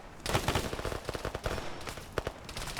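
Gunfire in the Arma military video game during a PvP match, a rapid string of sharp automatic shots in bursts, some close and loud, with scattered pops between volleys.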